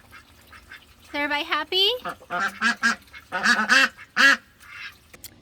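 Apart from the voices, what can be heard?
ducks quacking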